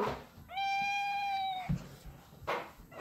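A cat named Kit Kat lets out one long, clear meow close by, followed by faint rustling and a short thump, with no one talking.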